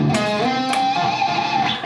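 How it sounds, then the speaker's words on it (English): Electric guitar pinch harmonic at the 15th fret held with vibrato, a single loud squealing note that wavers in pitch over a distorted tone, with no talk. "we're gonna do a pinch harmonic"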